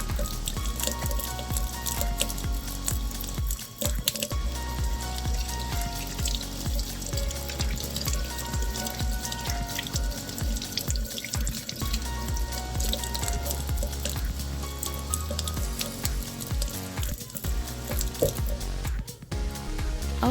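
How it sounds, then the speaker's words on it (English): Hands are washed under a running tap after press-on nail filing: a steady splashing, dripping water stream with no break, close and continuous, with no speech. "Okay, so yes, again, I'm washing my hands again"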